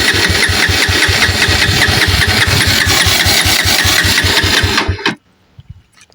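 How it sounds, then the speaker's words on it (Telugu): A Bajaj Pulsar NS160 motorcycle engine turns over in a rapid, loud, rhythmic chugging that runs for about five seconds, then cuts off abruptly into near silence. "చలో మనకి స్టార్ట్ అయితే అవుతలేదు బండి."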